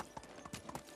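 Horse hooves clip-clopping in the medieval game Medieval Dynasty, a steady walking rhythm of distinct hoof strikes, fairly quiet and alone.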